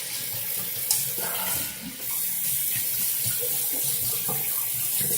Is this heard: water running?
yes